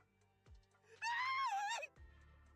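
Scream in the video game ZZZero, a single drawn-out wavering high cry lasting under a second, sharp and loud against a quiet background with soft thumps before and after.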